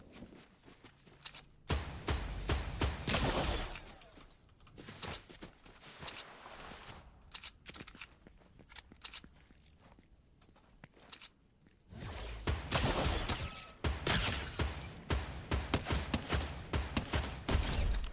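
Assault rifle fire in Fortnite comes in rapid, loud bursts, with a quieter stretch of scattered shots and footsteps between them, then heavy sustained firing again.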